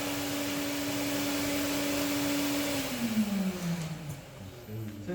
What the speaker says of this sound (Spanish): Fíjense que esta es una aspiradora inversa